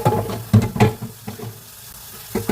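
Dishes being washed in water: clinks of crockery, sloshing and splashes arrive in uneven bursts, with quieter pauses between them, all close to the microphone.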